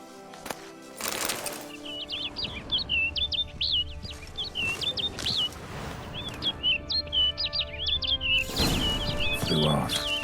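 In Witcher 3, a bird sings rapid, high warbling phrases in two long bursts, clear and close, with other game sounds and low ambience in the background.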